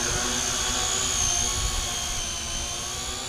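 SYMA X8C Venture quadcopter drone lifting off into a hover, its rotors giving a continuous high-pitched buzzing whine that holds steady and loud close by.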